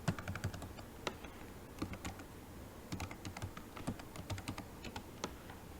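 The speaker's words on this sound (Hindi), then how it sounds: "यहाँ पे मैं वो डोमेन टाइप करूंगा" Rapid clicking of laptop keys as a domain name is typed, uneven bursts of taps close by and fairly quiet, with no talking.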